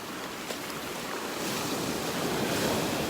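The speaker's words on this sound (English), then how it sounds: "Just want to come up and spend 1 minute up here and watch these waves." Ocean surf rolls onto a beach in North Naples, Florida, a broad steady wash of breaking waves that swells louder partway through, with wind buffeting the microphone.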